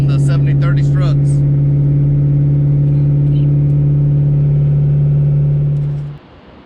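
A Saleen sports car fitted with new Bilstein R6 front struts holds a loud, steady engine drone while driving on a test drive, then the engine cuts off and the sound drops away.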